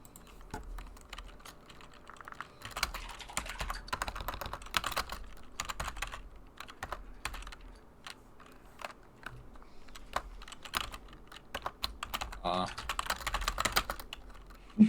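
Fingers tap at a computer keyboard in irregular bursts of light clicks, close and fairly quiet, with people murmuring in the background.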